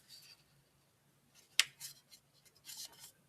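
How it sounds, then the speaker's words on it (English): A paper invoice folded by hand while packing a trading card shipment: soft, close rustling with one sharp crisp crease snap in the middle, then more light crinkles of the paper. "I'll take my invoice and fold it in half"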